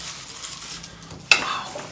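Olives being mixed with garlic, and with balsamic or vinegar, for Sicilian village-style olives: soft, steady stirring in a bowl, then one sharp clink partway through and a slightly brighter scrape afterward.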